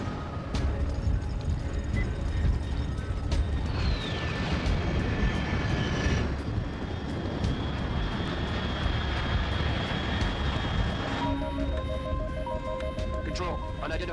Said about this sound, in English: Control, unidentified aircraft detected.